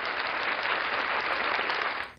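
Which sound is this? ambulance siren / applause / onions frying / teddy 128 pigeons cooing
applause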